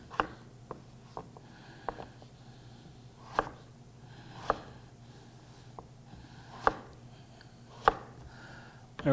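A knife chops potatoes into squares on a board with sharp, close taps spaced about a second apart over a faint background hum, with no talking.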